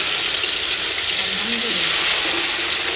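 Hot ghee sizzles steadily in a large cooking pot outdoors, a loud continuous frying hiss with a faint voice murmuring underneath.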